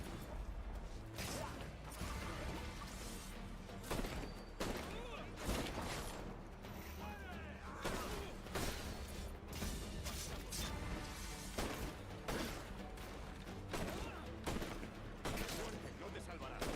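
Rapid gunfire and crashing impacts in Assassin's Creed Black Flag, a dense run of shots repeating through the whole stretch, with talk faintly underneath.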